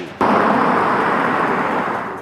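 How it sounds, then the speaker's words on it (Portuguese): Missile explosions in Middle East war footage: one sudden loud blast that swells into a sustained, dense roar and rumble lasting about two seconds, close and heavy, with no voices. "Mísseis, explosões e mais um dia de guerra no Oriente Médio."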